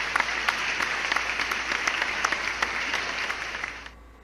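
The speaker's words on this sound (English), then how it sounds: "So clap it up for that." Steady clapping from a small group, close and fairly even, holding for about four seconds before cutting off abruptly, with no voices over it.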